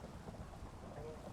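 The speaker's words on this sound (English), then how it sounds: "That's why the thunderstorm's happening right now." Minecraft thunderstorm, a faint steady wash of rain with a low rumbling undertone, continuous and distant throughout.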